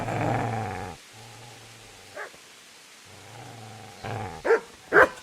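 A dog growls at the player in Kingdom Come: Deliverance, a low steady rumble in two stretches, with sharper yelps and snarls building near the end.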